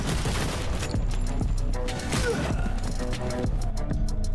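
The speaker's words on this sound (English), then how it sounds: "assault rifle" Rapid assault rifle fire crackles in a video game, dense bursts of shots with booms and impacts mixed in over game sound.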